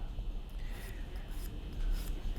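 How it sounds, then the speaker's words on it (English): Edges of a plastic model kit part sanded with a fine file, a steady close scratchy rasping of soft repeated strokes that runs through the whole moment with no voice over it. "it will be necessary to sort of sand that all the way along"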